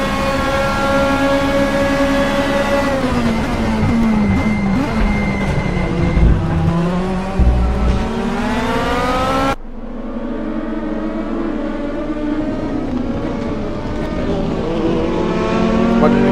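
DTM race cars at the Nürburgring GP circuit, engines revving loud and close with rising pitch through the gears, a sudden cut as one passes, then another car climbing through its revs, with no talking over the engine noise.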